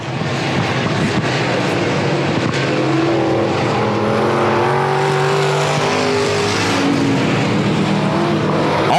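Pure stock race cars roar around South Texas Speedway, a loud continuous engine drone with shifting pitch as several cars run close together down the backstretch and into a turn.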